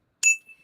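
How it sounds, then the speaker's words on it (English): A single bright bell ding rings out alone, sharp and close, with a clear ringing tone that fades quickly over about half a second. "When I get the bell, it makes me so happy."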